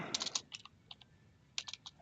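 Typing on a computer keyboard with an English layout, heard as short bursts of quick, light key clicks separated by a pause, fairly close and quiet, with no talking.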